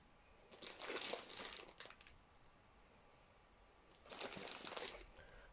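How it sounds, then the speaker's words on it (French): A small packet of artificial snow being opened, giving two bursts of close, crisp plastic crinkling separated by a quiet pause, with no voices. "je vais ouvrir mon petit paquet de neige"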